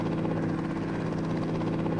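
A helicopter in the video game High School Simulator 2018 drones with a steady, close rotor and engine hum, a continuous low thrum with no voices over it.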